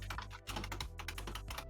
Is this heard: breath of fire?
no